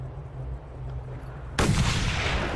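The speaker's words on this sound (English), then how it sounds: "Time to put the sniper rifle to the test." A sniper rifle in the Mad Max video game fires one sudden loud shot with a broad booming crack that rings out over a low rumbling background, no voices.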